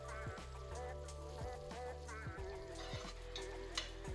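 Peri peri chilli sauce simmering in a pan, a soft steady sizzle and bubbling with occasional stirring clinks, close and moderately quiet with no talk.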